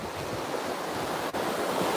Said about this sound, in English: We've got some waves going on here